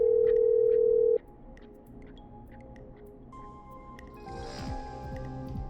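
A telephone is dialed in the video game Killer Frequency: a steady dial tone cuts off, then a series of short, faint dial tones and beeps follow, with a soft rising noise near the end.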